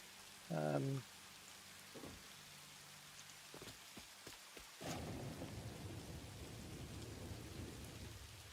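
Rain falls steadily outside during a live Satisfactory 1.2 gameplay stream, a soft constant patter broken by a few sharp cracks of thunder before a heavier rumbling roll swells and keeps going, with a brief voice-like burst near the start.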